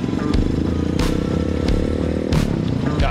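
A Honda Grom motorcycle on the road, its small single-cylinder engine droning steadily and close with a rough, buzzing note, occasional clattering and wind bursts over the continuous ride.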